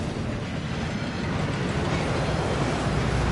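Thief's Downfall, an enchantment-washing waterfall in the Hogwarts Legacy video game, pours as a steady, dense rushing roar of falling water, unbroken and moderately loud, with no talk over it.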